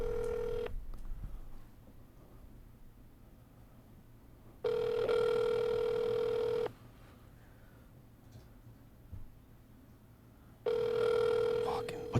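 Telephone ringback tone on a call to Little Caesars, steady two-second rings separated by long pauses, repeating three times over a faint background hum.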